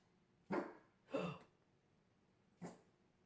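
A dog barks three times at home in the early morning: two close, loud barks in quick succession, a short pause, then a single shorter bark. No one speaks.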